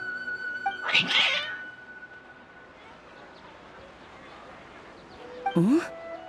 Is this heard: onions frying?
no